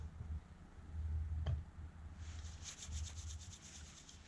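A Webtex mod survival knife with a Scandinavian grind shaves feather sticks from wood, giving quiet, close rasping scrapes with a brief sharp tick partway through.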